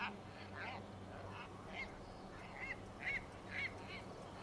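Birds in Dragon Age: Inquisition give four or five short, nasal, goose-like honks, spaced unevenly over a steady low ambient hum, moderately close and clear.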